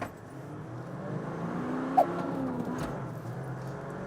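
A 2024 Toyota Land Cruiser 76 Series with a V8 engine accelerating through the gears, heard as a steady, fairly loud engine drone that rises in pitch with one brief sharp blip midway, and no talking.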